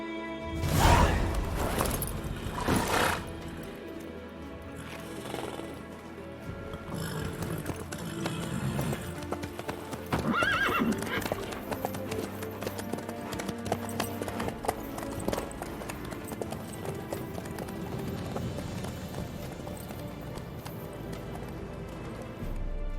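Horse hooves clip-clop in steady rhythm from The Witcher 3, moderately close and continuous over a bed of game ambience and music, with a few louder thumps and crashes along the way.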